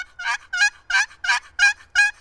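A turkey box call yelps six times in a steady, even rhythm, each note a short raspy squawk, loud and close with nothing else around.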